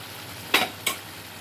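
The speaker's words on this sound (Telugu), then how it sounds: "రుబ్బుకున్నాను కదా గోంగూర, వేసేసుకుంటున్నాను." Ground gongura paste goes into a hot pan and is stirred, making two quick scraping, sizzling strokes over a faint background hiss.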